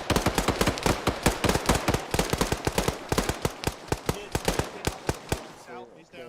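Gunfire in the ArmA 3 military shooter rings out as rapid, loud, sharp shots in quick bursts and irregular volleys, close and punchy, continuing for several seconds before a brief quieter tail.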